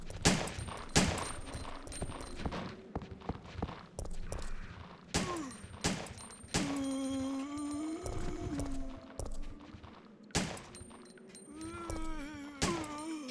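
Gunfire from the video game Resident Evil 2 or 3: rapid, repeated loud shots and bursts crack throughout, interspersed with ringing tones and game effects, dense and continuous.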